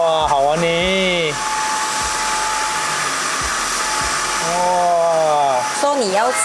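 A Morse Fabric Washer Vacuum G3 runs in Turbo Mode on a car seat, giving a loud, continuous motor whine with rising and falling pitch sweeps as it starts up and works the fabric.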